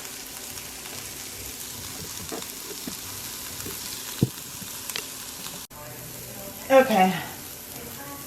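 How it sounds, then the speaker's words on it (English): Chopped onion and garlic frying in oil in a pan while slow-cooker chicken enchilada casserole is made, a low steady sizzle with a few stirring clatters and a short burst of louder crackle near the end; a voice speaks briefly. "We're letting the onions cook down a little bit."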